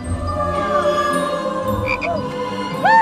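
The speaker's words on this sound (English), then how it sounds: "look, it's a frog!" A frog croaks in a noisy televised obstacle-course game show, a couple of short croaks and chirps rising out of a dense bed of crowd and studio sound.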